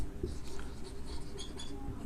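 Chalk or marker scratching on a board during a physics lecture on electrostatics, a steady faint scraping stroke over a low room hum, with no voice during the writing.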